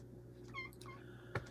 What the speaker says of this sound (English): And here comes the cat.